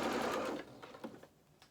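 A sewing machine stitching fabric for a doll's pinafore whirs steadily and close for about half a second, then stops, leaving faint clicks and handling noises in a quiet room.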